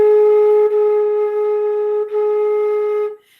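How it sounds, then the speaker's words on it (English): A flute sounds a single sustained A-flat, held steadily and clearly for about three seconds before fading out, close and alone with no talking. "I'll play an A flat,"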